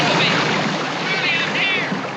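Water gushes from a burst water heater flooding a basement in a 1957 black-and-white film, a loud, steady broadband rush with no break.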